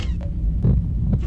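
A deep, muffled heartbeat throbs in the horror video game Mimic, with slow repeated thumps under a low hum and no voices.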